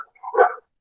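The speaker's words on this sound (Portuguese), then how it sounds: "Agora, os cachorros estão latindo." A single short dog bark or yip rings out once, fairly close and clear, followed by silence.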